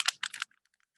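Origami paper being folded and creased by hand for a spring flower basket craft, giving two quick bursts of crisp papery rustling followed by faint soft ticks.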